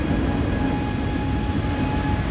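A Malaysia Airlines plane passing nearby, heard from inside another airliner on the ground, a steady loud broadband rumble of engines and cabin noise holding evenly throughout with no voices.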